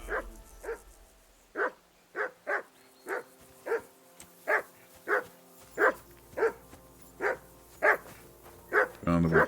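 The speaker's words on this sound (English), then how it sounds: "Call off that damn dog before he wolfs down the last of our meat" A dog in the video game Kingdom Come Deliverance II barks repeatedly, a steady series of sharp, close barks spaced about half a second apart, with a short whimpering yip at the very end.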